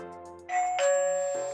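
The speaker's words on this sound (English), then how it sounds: "it does a single chime" A Hikvision AX Pro wireless alarm system sounds a single two-note ding-dong chime when the door detector is triggered, ringing clear and close with a sustained fading tail and no talking.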